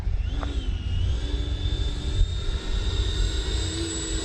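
A Freewing F-22 90mm electric ducted-fan RC jet flies overhead, a steady loud whooshing fan roar with a sustained high whine and heavy low rumble, continuous and close throughout.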